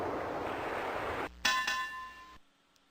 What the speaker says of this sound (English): Graham notices a ship's bell hanging near the door of the house.